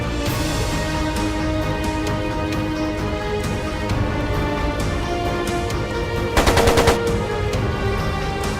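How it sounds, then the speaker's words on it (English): Rapid machine gun fire rattles without pause through a battle scene in the video game Trails of Cold Steel II, loud and dense, with a sharper and heavier burst near the end. "It sounded like a machine gun."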